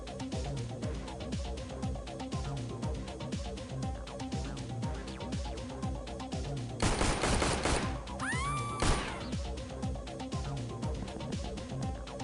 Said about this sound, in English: heavy shotgun